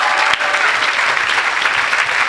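A church congregation applauds and cheers during a lively worship service, a dense, continuous roar of clapping that fills the whole moment with no pause.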